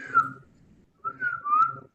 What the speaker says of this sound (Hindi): सीटी बजाओ पहले, सीटी।